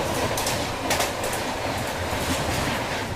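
Double-decker Jammu Tawi–Ajmer Pooja Express running on its tracks, a steady close, loud rolling rumble with faint clickety-clack of wheels and no voices.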